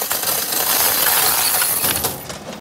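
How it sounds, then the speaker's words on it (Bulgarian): A jar full of copper coins is poured out, producing a continuous loud jingling cascade of clinking metal that tapers off near the end, with no voices. "Един такъв пълен буркан с жълти стотинки."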